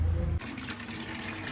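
Water gushes steadily from a tap fed by a tank, a close, continuous splashing flow after a brief low rumble at the start, with no voices.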